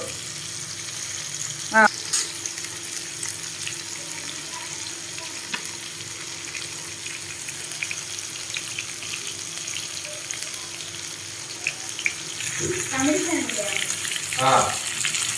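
Chicken dropped into a hot pan of oil and frying, a steady close sizzle with bursts of crackling and stirring, and a brief voice heard near the start.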